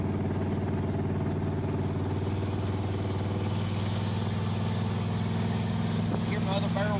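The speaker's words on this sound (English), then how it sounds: "Hear my other barrel kick in?" A 1963 Plymouth Belvedere wagon's carbureted engine drones with a steady low rumble at close range, and the pitch shifts slightly as the secondary barrel opens, with talk over it.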